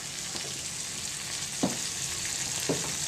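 Marinated tempeh fries uncovered in a pan, a steady close sizzle with a few soft clicks and pops over a constant bubbling hiss.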